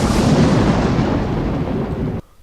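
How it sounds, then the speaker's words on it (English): An intense, very loud lightning thunder effect, a massive rumbling crash that rolls and decays for about two seconds before cutting off sharply, heard alone. "I've got more intense lightning stuff. This stuff is like super loud."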